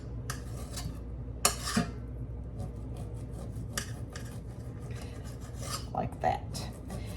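A knife slices cold bacon into small pieces on a cutting board, giving soft, irregular scraping and tapping strokes up close, with a faint steady hum in the background.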